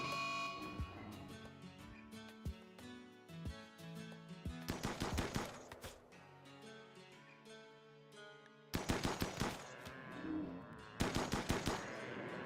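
Gunfire in RimWorld, with colonists shooting at a mega sloth: scattered single shots at first, then two loud bursts of rapid automatic fire, crisp and close, with no talking.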